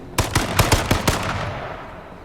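Rapid AR rifle bursts in a first-person shooter game, about six close sharp shots in quick succession over the first second, then a fading echo tail.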